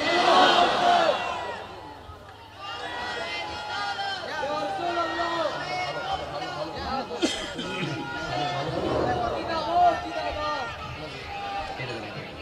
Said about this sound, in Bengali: সকলে আওয়াজ করবেন আল্লাহু আকবার।